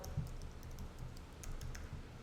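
Quick typing of a folder name on a computer keyboard, a rapid run of light key clicks, close and steady, with no voices.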